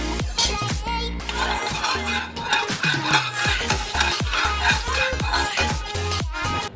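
Ghee being stirred in a hot wok over a medium-low flame, with a utensil scraping and clinking against the metal in repeated close strokes above a soft sizzle.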